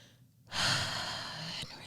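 One deep breath drawn in from the core, loud and close, rising sharply and holding steady for about a second before tapering off.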